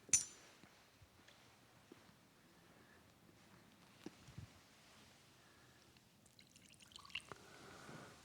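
A faint, quiet trickle of water poured into wine at a Catholic Mass, with soft drips and a small clink of a vessel in a hushed church, plus a sharper tap near the start.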